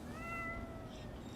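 A cat gives one clear, rising-then-falling meow over a low rumbling background on a train ride, near and moderately loud, followed by quieter noise.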